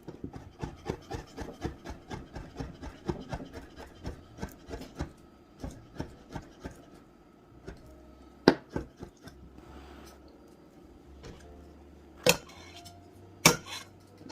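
A knife works cold butter into small pieces for an apple pie crust, giving a steady run of sharp, close taps and scrapes on a hard surface that turn sparse toward the end, with a few louder knocks.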